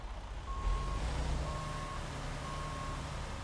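Three evenly spaced reversing beeps from a truck backing up in American Truck Simulator, each a steady half-second tone, over a low continuous engine rumble.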